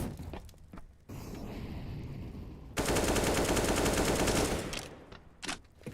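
Rapid bursts of automatic rifle fire in a Counter-Strike match, sustained volleys with short pauses between them, loud and close, with a few sharp single shots near the end.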